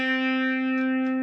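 A single guitar note is plucked on the G string at the fifth fret and rings out steadily for about a second, clear and close with no talking.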